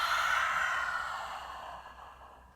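Long, deep exhale through the mouth during a morning yoga practice, a single breathy whoosh that starts strong, then fades gradually over about two seconds.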